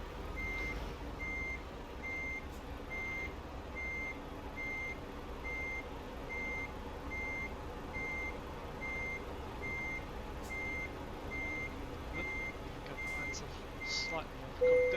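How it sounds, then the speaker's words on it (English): Steady reversing beeps from a simulated truck backing a trailer in Euro Truck Simulator 2, an evenly spaced repeating tone over a low engine idle, ending with a brief hiss near the end. "It's been a while since I've reversed a trailer."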